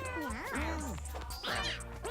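Cartoonish cat meows from the roguelike cat-breeding game Mewgenics: two separate warbling, sliding meows, the first low and bending, the second brighter, moderately loud.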